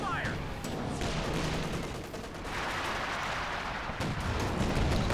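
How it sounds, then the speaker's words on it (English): Bazooka fire and explosions hitting a building in the war strategy game Company of Heroes 2, a dense, continuous barrage of blasts and gunfire with no pauses, fairly loud and close throughout. "Is he trying to kill this building with his bazookas?"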